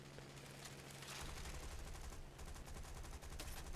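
Machine-gun fire from a Spitfire Mk.I in a combat flight video game, loud sustained bursts of rapid rattling shots over engine roar, with a short break mid-burst.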